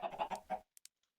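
A Minecraft chicken clucking, a short quick burst of several clucks, close and clear, followed by a couple of faint clicks.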